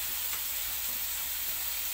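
Tofu bergedil mixture stir-frying in a pan, a steady, dense sizzling hiss that continues without a break and without speech.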